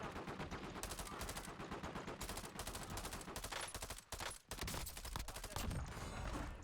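Rapid automatic gunfire in the video game Warzone, dense bursts of shots in quick succession with brief pauses, loud and sustained.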